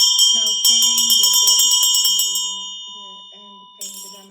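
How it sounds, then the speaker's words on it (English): A ritual bell rings with a sustained high tone while a damaru drum rattles in quick rhythmic bursts, closing a chanted Amitabha mantra; the bell strikes again at the end, loud and close. "bell and playing the damaru at the end of this mantra"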